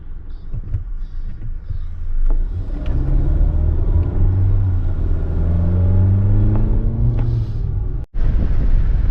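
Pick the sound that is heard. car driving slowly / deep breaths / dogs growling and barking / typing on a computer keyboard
car driving slowly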